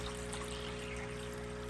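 Water gushing steadily out through an opened service valve, a constant, close, rushing stream with a faint hum underneath and no pauses.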